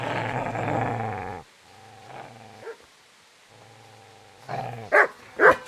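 A dog in the video game Kingdom Come: Deliverance growls low and steadily up close, then gives a few softer whining growls before two sharp barks at the end.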